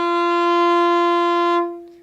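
A viola sounds F natural on the D string, a single bowed note held steadily for about one and a half seconds, rich and close, then fading into silence.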